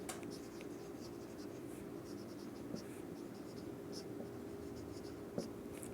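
Chalk or marker scratching on a board during a lesson, a continuous rough scraping with small taps, heard under a quiet teacher's voice.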